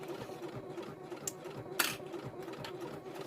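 A sewing machine stitches thick layers of a handmade bag in a steady, moderately close mechanical hum, with a couple of sharp clicks and one brief louder knock.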